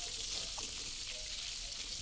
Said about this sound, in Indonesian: Ini kita akan goreng sampai tomatnya matang ya